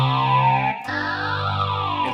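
A Meris Enzo X synthesizer pedal plays its twin sweeps preset: a loud, dense, buzzy tone with chorus-like shimmer, a brief dropout, then a restruck note whose upper harmonics sweep and swirl.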